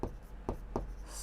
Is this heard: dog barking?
no